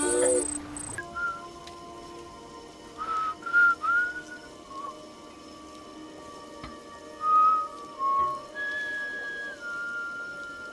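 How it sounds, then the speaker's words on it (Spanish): Cliff whistles the opening of a tune in the video game Death Stranding, a clear melodic whistle in short phrases with pauses over a quiet ambient background. "Cliff silba el comienzo de una canción"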